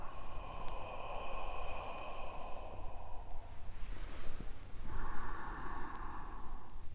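A slow breath during Qi Gong breathing practice, a long airy exhalation lasting a few seconds, then a pause and a second softer breath, close to the microphone.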